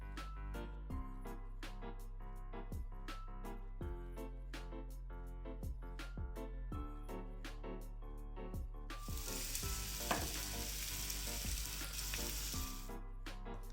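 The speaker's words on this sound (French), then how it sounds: "je vous invite à les passer à la farine et les faire cuire dans un fond d'huile d'olive à peu près 20 minutes à feu doux" Floured paupiettes cook over low heat in a shallow layer of olive oil, giving a soft sizzle beneath steady background music, with a brief louder burst of frying hiss partway through.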